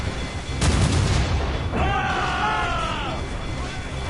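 Gunboat cannon fire booms in Assassin's Creed Rogue, a loud blast giving way to rumbling battle noise with a droning, bellowing tone, all at dense, sustained volume.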